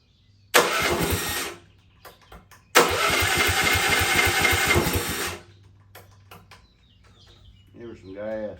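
A Dingo go-kart engine cranks and catches in two loud bursts, first a brief run and then a longer buzzing rev that dies away. Scattered clicks and a short murmur of speech follow.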